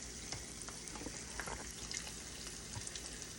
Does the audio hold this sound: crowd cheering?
no